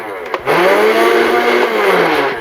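X-Shot Insanity Ragefire foam blaster flywheels spinning up from a click into a steady, close, high whirring motor whine that holds for about two seconds.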